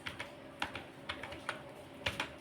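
Quiet clicking of computer keyboard keys while typing in MS Word, short irregular taps close by, no talk.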